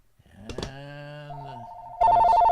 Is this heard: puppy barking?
no